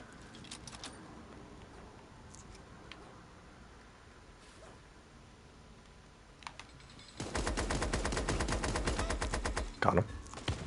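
Gunfire in the video game Super Animal Royale: a dense burst of rapid, loud shots erupts after several seconds of quieter game noise, with a few sharper cracks near the end.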